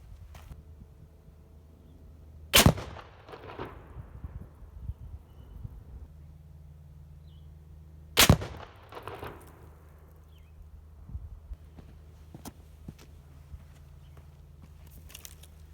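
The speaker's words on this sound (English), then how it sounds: "I'm gonna go back and send 1 round and see where it lands." A rifle fired at a target outdoors gives two sharp, loud reports several seconds apart, each followed by a brief decaying tail over a low steady background hum.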